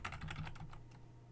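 Computer keyboard typing while configuring ASA failover, a quick burst of close, crisp key clicks ending with a final press, alone without talk.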